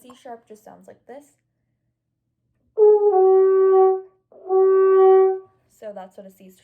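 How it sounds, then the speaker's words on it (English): Two sustained French horn notes, a C sharp held cleanly and close for about a second each, with someone talking just before and after. "And a C sharp just sounds like this."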